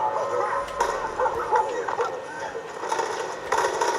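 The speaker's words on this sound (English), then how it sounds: "Their dog is going crazy." Dog barking in Far Cry 5, the barks and yips recurring excitedly through a busy game soundscape, mid-loud and mixed with other in-game sounds.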